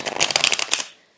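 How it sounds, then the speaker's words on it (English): A deck of tarot cards is shuffled in a quick, close riffle of papery flutters lasting under a second, then settles into silence. "I'm going to shuffle the cards out for you."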